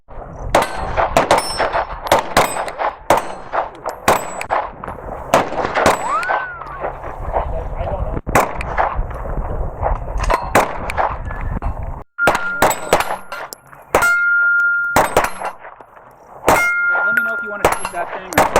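A Sig P320 compact pistol fires repeatedly at steel targets outdoors, sharp shots each followed by a ringing metallic clang, in irregular bursts, with a voice speaking briefly near the end.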